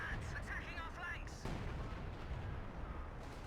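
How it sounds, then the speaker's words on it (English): Gunfire and artillery thud in a Company of Heroes 2 battle, bursts of shots and booms mixed with busy in-game voices, followed by a lower rumbling barrage. "we're being bloody shot at, attacking our flanks"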